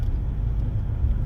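Steady low rumble of a car being driven, engine and road noise heard from inside the cabin, constant and even with no talking.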